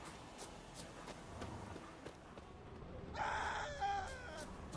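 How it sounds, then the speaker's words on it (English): A creature in The Witcher 3 lets out a short, shrill scream over a murky game background, a brief strident cry rising near the end amid low rumbling ambience. "I can hear you screaming"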